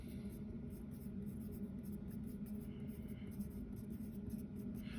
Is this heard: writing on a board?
yes